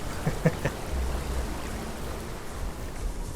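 Waterfall in the game Path of Titans, a steady broadband rush of falling water that stays even and fairly close throughout, with a few faint knocks near the start.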